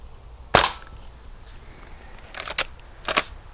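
An Umarex cowboy-style airgun, rifle or revolver, fires sharp snapping shots outdoors: one loud crack, then a quieter pop and a close pair of shots later, over faint insect-like background hiss.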